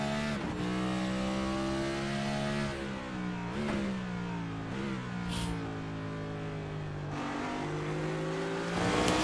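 Onboard the 11 race car of Tom Ogle at Road America, engine roaring close and loud as it climbs through the revs, with several sharp dips and rises as gears change, the pitch sweeping back up after each shift.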